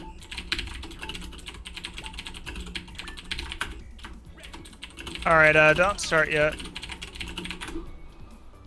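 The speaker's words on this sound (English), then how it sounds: "sorry for the typing, folks" Rapid clicking of computer keyboard typing runs throughout during an Action Henk multiplayer session, steady and close, with someone speaking briefly partway through.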